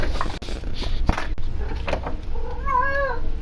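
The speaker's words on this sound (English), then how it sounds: "Cats." Pet cats meow in a quiet room at home, with a series of wavering, drawn-out meows building toward the end amid small bumps and clicks.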